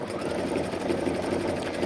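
A Baby Lock Anthem sewing machine runs steadily while sewing a ladder stitch, its motor producing a continuous, even mechanical whir with a fast rapid needle rhythm, close and fairly loud, with no one speaking.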